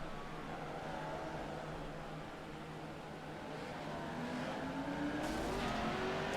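Red Bull race truck circling a track at an evening all-star event, its engine a low continuous drone rising slightly in pitch as it grows closer, moderately distant beneath crowd and track ambience.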